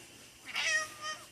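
Pounce, a pet cat, gives a single soft meow with a rising then falling pitch. It is fairly faint against a steady hiss of room noise.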